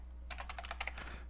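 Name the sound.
typing a command on a computer keyboard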